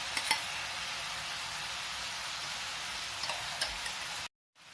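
Basmati rice sizzling and frying in a hot pan, a steady close hiss with a few small crackles, alone and without speech, ending abruptly in silence.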